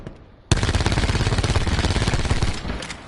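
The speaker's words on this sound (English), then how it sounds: "So now if you just hold down on the right trigger that you're aiming with" Automatic gunfire from Black Ops 4 with the trigger held down, a sudden loud sustained burst of rapid rhythmic shots lasting about two and a half seconds before tapering off.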